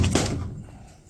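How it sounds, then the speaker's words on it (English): A metal drawer on a dented Stanley Vidmar cabinet shutting, a single close, dull thud at the start that quickly fades into quiet. "It's just whether these drawers open and close nicely"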